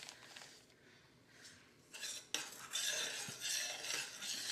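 A spoon stirring red wine into a liquid for a black forest flan: soft clinks and scraping swirls against a bowl, quiet at first and growing louder and busier toward the end, with no talk.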